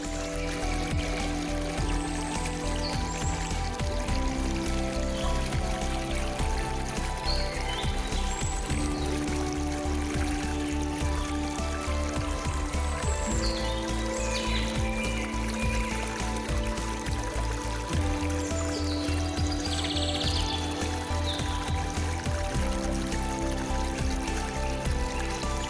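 Vigorous spring water at Chickasaw National Recreation Area in Oklahoma, a steady, continuous rush and pour with no breaks, while birds chirp faintly above it and sustained music tones play underneath.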